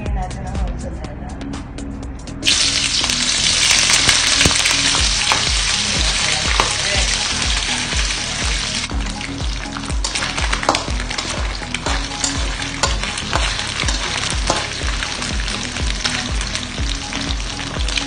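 Mortadella sizzling loudly in hot cooking oil in a pan, a dense continuous hiss that jumps up sharply and persists, with a voice talking over it.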